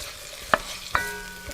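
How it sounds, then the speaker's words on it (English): Chopped onions frying in olive oil in a Dutch oven, a soft steady sizzle with two distinct metallic clinks of a utensil stirring against the pot. "I'm gonna put them into my Dutch oven with the 2 tablespoons of olive oil and cook them for about 5 minutes"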